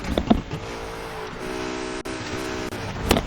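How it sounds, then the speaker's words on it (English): A car engine from the video game Need for Speed Heat drones steadily, rising and holding in pitch like a revving motor, with a few sharp clicks and brief bumps at the start and end. "Wait, can you hear this car?"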